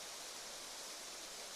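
Steady broadband rush of She Oak Falls, a small, tame waterfall dropping over dark rocks into a pool, heard as constant soft water noise with no voices.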